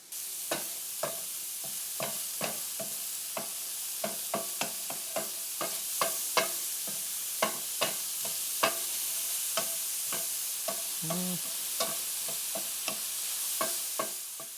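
Mushrooms sizzle in a pan while a utensil stirs them, a constant frying hiss punctuated by regular sharp scrapes and taps across the whole stretch, close and clear with no voices.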